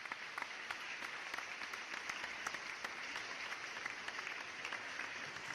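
Audience applause welcoming Isaac, a local police officer, to the stage for a talk; steady, dense clapping from a crowd at moderate volume, with no talking.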